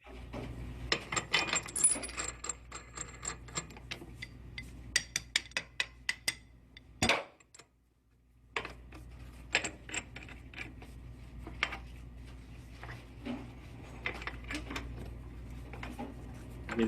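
A regular wrench tightens a fitting by hand, giving rapid ratcheting clicks in bursts over a low mechanical hum. A louder clunk and a short lull come midway, then uneven clicking and clattering resumes, fairly close.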